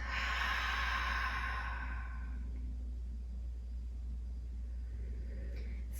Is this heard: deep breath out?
yes